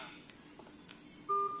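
A wired hotel guest-room telephone, model ECG-702, sounds a brief dialing tone near the end after faint handling noise.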